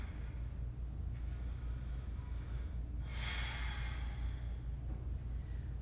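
A full, slow breath during a yoga flow: a long audible inhale and exhale over a low steady background hum, quiet and close, with no talk.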